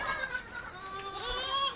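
Young goat kids on a goat farm bleat in overlapping wavering cries at moderate distance, several animals calling at once against a faint background murmur.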